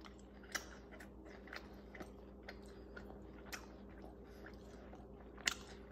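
Someone chews a bite of homemade pizza grilled over charcoal and wood on a Masterbuilt Gravity Series 1050 digital charcoal grill, with quiet, close-up crunching and mouth clicks in a loose rhythm, plus a sharper bite near the end.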